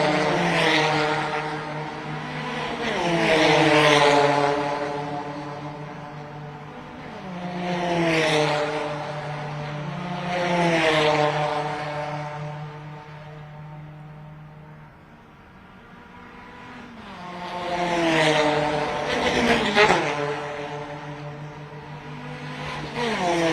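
Formula 4 race cars scream past one after another on the 3.8-kilometre Chennai street circuit during practice, each engine rising to a near, loud whine and fading off into the distance, with several distinct passes and no talk.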